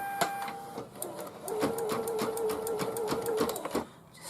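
A domestic sewing machine runs steadily, stitching a face placement line on a hooded towel, with a continuous mechanical whir and rapid needle ticking, preceded by a few separate clicks and ending with the motor stopping.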